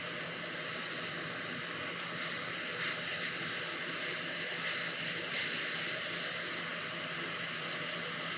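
A hot air rework station blows steadily onto the power planes of a SEGA WonderMega console circuit board, giving a loud, constant airy rush with no breaks for the whole stretch.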